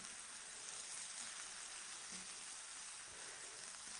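Vegetables softening in a hot pan, a continuous even sizzle heard close and alone, with a faint stir or tap midway.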